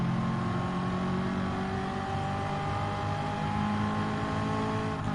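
A race car engine in Gran Turismo 7 holds a steady high whining drone of revs, with layered tones slowly rising and falling, loud and continuous with no break.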